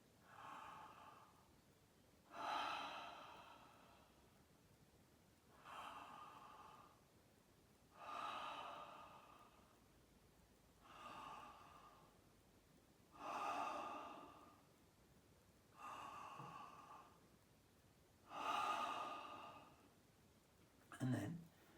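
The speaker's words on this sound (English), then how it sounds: "just start to breathe in and out through the mouth" Open-mouthed breathing with a soft jaw, repeated in-and-out breaths at a slow, even pace about every two to three seconds, quiet and close, with faint voicing in some breaths and a brief sound at the end.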